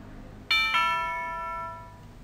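Tubular bell sample played on the note A in FL Studio for a trap-style beat: two quick bright strikes in close succession, then a long shimmering ring that slowly fades, with no other prominent sound.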